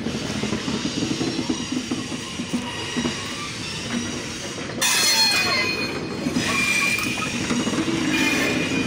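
Locomotive 6003 rolling into a railway workshop at Saidpur, a loud steady rumble of wheels on track with a harsh metallic squeal rising midway and lingering to the end.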